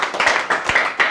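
Church congregation clapping and cheering in praise of God, a short burst of scattered handclaps with voices rising over them, close and moderately loud.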